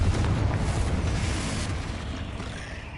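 Confringo fire-blast spell cast in Hogwarts Legacy inside a tomb: a dense, roaring explosive burst that fills the whole clip, loud and close, slowly fading over a few seconds.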